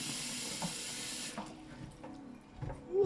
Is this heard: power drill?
no